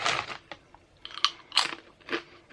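Beetroot and onion crisps are crunched and chewed up close, with several sharp crispy bites and chomps separated by brief pauses, with no talking.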